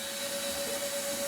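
A vacuum cleaner runs with a steady, loud whine and airy roar as it sucks up a bug, continuous and close with no talk.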